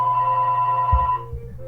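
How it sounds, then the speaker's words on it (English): A phone rings during a math lesson recording, a steady electronic ringtone with bright sustained tones that cuts off partway, followed by low thumps as it is handled. "Gotta love it when your phone rings while you're doing a lesson video."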